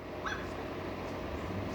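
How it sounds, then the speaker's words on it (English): Small dogs whimper faintly in the distance, with a couple of thin, high yips early on over a constant low background hum. "You got the little dogs getting involved."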